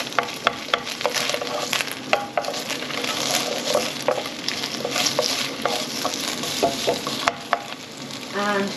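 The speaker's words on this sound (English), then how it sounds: "So first thing to go in is the onions, which I've just sliced." Freshly sliced onions fry in a pan with a continuous crackling sizzle, peppered with sharp pops and spatters, close and fairly loud throughout.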